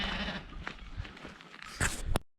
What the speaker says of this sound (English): I'll just trust that this sheep farmer knows what he's doing, and let sheeps be sheeps.